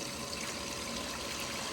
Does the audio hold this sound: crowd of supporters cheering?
no